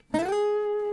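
A single guitar note slides upward into the ninth fret, pitch rising quickly from the pluck then holding as a clear sustained tone, close and alone.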